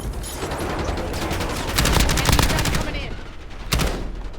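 Rapid bursts of video game gunfire crackle through a busy firefight, with heavier volleys near the middle and a sharp final burst, close and loud over a constant rumble of battle.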